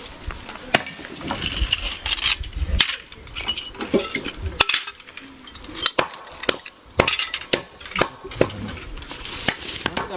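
Glass pieces clinking and knocking together amid construction work on a house foundation, with sharp repeated clinks and clatter across the whole stretch over busy background activity.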